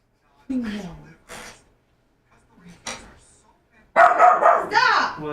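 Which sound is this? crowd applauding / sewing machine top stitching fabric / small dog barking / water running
small dog barking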